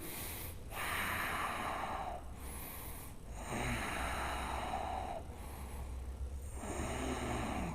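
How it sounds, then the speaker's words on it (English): Slow, deep breaths in and out through the nose during a strong yoga flow class, long airy inhales and exhales alternating steadily, close and fairly loud, with no speech. "Breathe."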